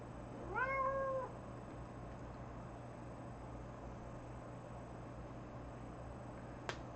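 A single cat lets out one clear rising-and-falling meow at feeding time, fairly close, followed by quiet room hiss and a brief sharp click near the end.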